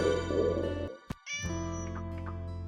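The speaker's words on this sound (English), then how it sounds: "Oh, it's the Kaliko cat." A calico cat meows once in the game Summer Pockets Reflection Blue, a short, clear meow rising over steady background music with soft tones.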